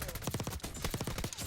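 Rapid automatic gunfire in a shooter video game's domination mode, a quick stuttering string of faint, close-spaced shots that lasts the whole brief moment.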